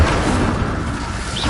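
Incendio fire spell cast in the video game Hogwarts Legacy, a loud brief whooshing burst of flame with a rumbling boom, alone without speech.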